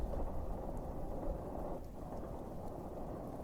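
Steady heavy rain hisses under a deep, continuous rumble of thunder that swells and subsides without a break, with no voices over it.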